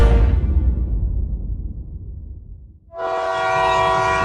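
A cartoon train slows to a stop in a forest, its loud rumble fading away over a few seconds. A bright, sustained horn-like tone then starts abruptly and holds to the end.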